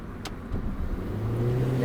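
Car accelerating during a driving lesson, the engine note rising and strengthening over a couple of seconds after a short click.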